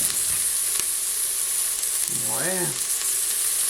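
Turkey curry sauté sizzles and fries steadily in a pan with a constant hiss; a brief voice is heard mid-way over the cooking.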